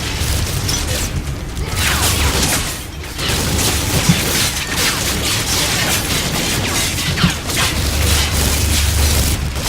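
Turret fire in the Call of Duty: Ghosts video game, a dense, continuous mechanical rattle of rapid shots with booming bursts, loud and close throughout with only brief dips.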